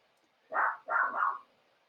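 A dog barks indoors after a package delivery, giving three quick, fairly loud barks, the last two run together, with quiet moments before and after.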